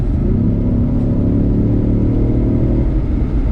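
Ford Mustang EcoBoost four-cylinder at full throttle, a loud, close engine rumble holding a steady droning pitch that drops off near the end, with no voices over it.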